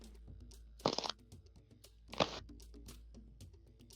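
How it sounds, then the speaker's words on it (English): Two short, close crunches of someone biting into crunchy berries, separated by a quiet pause, with faint background noise in between. "I'm assuming Vera is right there crunching on berries. Some very crunchy berries right there"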